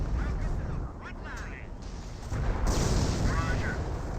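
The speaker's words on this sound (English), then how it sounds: "We got another M2 barrage this time," An M2 mortar barrage in the video game Company of Heroes pounds away as heavy, rumbling explosions that overlap into a continuous booming roar. A commentator talks over the blasts.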